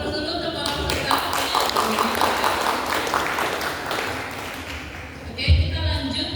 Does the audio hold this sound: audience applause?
yes